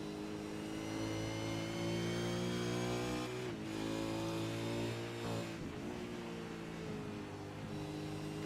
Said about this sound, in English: It's that little blip on the clutch and the gas which makes all the difference in this car.